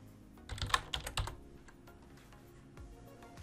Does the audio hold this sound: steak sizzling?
no